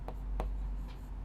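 Chalk or marker strokes on a board for a class 10 maths lesson, three short scratchy taps spaced apart over a low steady room hum, quiet and close with no talking.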